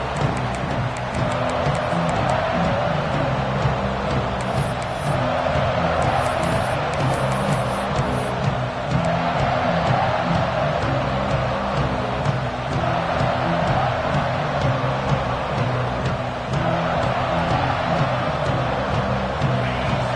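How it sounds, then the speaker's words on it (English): Dense, sustained roar of a large football stadium crowd fills the space continuously, loud and unbroken, like packed stands cheering. "this crowd is fired up. Listen to this noise here."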